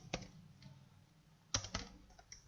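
Computer keyboard typing, a few sharp isolated keystroke clicks spaced irregularly with a small burst near the middle, close and quiet with no talk.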